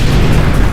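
A loud, dense explosion rumbles through a tabletop role-playing game as an attack blasts the floor beside a car, and a heavy low boom holds steady for under a second with no voices over it.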